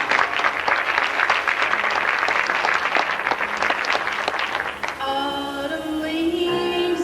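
An audience claps and cheers for a singer, dense loud applause for about five seconds that fades as a sustained musical tone enters near the end.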